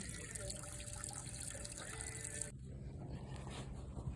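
Heating oil drains from a tank into buckets, a steady close liquid pour and trickle that thins to a quieter gurgling run partway through.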